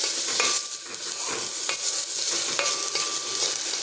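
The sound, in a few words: rice frying in ghee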